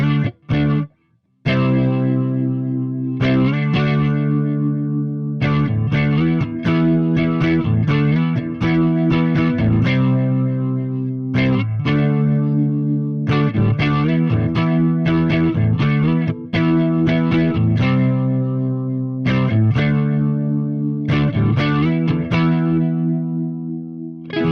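An electric guitar runs through a DigiTech Ventura Vibe pedal on its rotary setting, giving a swirling, warbling tone to sustained chords and picked notes played steadily and loudly with no talking.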